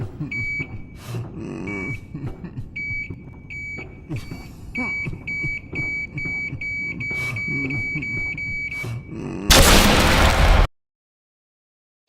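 Brain Blast's brain bursts in the Roblox horror game Descent, a sudden loud blast near the end after a stretch of repeating beeping tones and game noise, then cut to silence.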